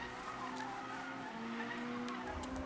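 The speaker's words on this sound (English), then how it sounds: "In my Civic drifting?" In Need for Speed, a Honda Civic drifts with a sustained tire skid and squeal over engine tone, the squeal holding steady then dropping mid-slide, loud and continuous with no speech.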